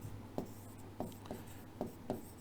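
Chalk or a marker writes points on a classroom board, making a series of short scratchy taps and strokes in an uneven rhythm, close and fairly quiet over a low steady hum.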